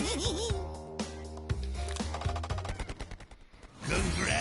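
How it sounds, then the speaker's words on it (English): Tommy gun firing in the Crash Team Racing video game, bursts of rapid rattling shots mixed with game music and effects, ending in a louder swell of game sound. "Especially when he fires his Tommy gun."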